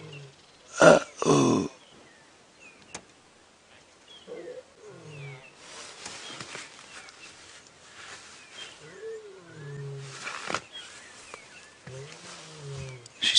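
A Nkuhuma lioness calls on a safari drive, with two loud roaring bursts early on followed by repeated lower grunting calls and a further strong call, while a man briefly exclaims.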